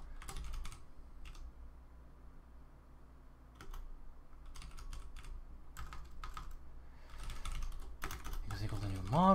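Clusters of quick clicks from typing on a computer keyboard, in uneven bursts separated by pauses, with a faint hum underneath and a brief voice sound at the very end.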